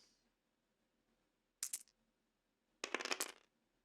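Dice roll in a tabletop wargame, two short clattering bursts of plastic dice tumbling on a hard surface, close and crisp against quiet.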